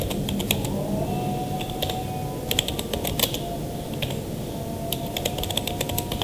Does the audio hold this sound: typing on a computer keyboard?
yes